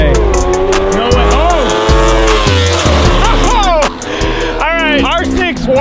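A quad fitted with a Yamaha R6 motorcycle engine drag races on a short runway, its high-revving engine screaming loud and close with rising gear-change sweeps, tire noise and excited voices over the roar.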